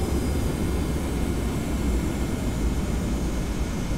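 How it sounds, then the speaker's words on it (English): Steady, loud broadband engine roar from a simulated TFDI 717 airliner taking off in Prepar3d, a continuous dense rumble with no break and no voices. "the airplane comes off the ground by itself"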